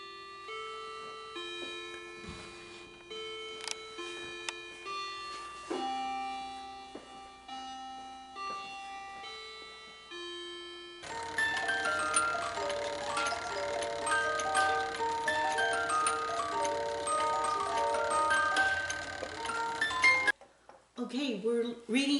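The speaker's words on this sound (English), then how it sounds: "here's another clock, and it's just about ready to ring" A clock rings out a sequence of clear chime notes, slow and tuneful at first, then gives way to a loud, dense, continuous ringing that breaks off abruptly, followed by a brief burst of further tones.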